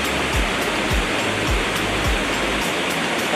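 Water roars steadily as it spills through the Krueng Sawang irrigation channel in Aceh, a loud dense rush with low thumps that pulse at regular intervals and no voices.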